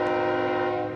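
A passing train sounds its horn, a loud, steady, sustained blast lasting the whole moment, close and overpowering.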